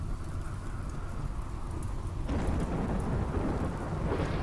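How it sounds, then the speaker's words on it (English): A RimWorld video game thunderstorm: steady rain hiss with low rumbling thunder that swells into a louder, denser roll about halfway through, continuous with no voices. "And then the Storyteller is turning on the storm."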